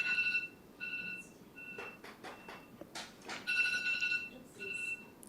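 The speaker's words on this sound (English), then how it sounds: "That's my timer." A kitchen-style timer alarm beeps in repeated short bursts of steady high tones in a council meeting room, fairly faint, with some shuffling and light room noise between the bursts.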